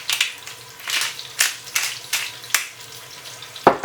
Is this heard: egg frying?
yes